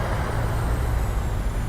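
Thrust reversers roar on a PMDG 737-800 in Microsoft Flight Simulator 2020, a steady dense broadband rush with heavy low rumble, loud and unbroken throughout.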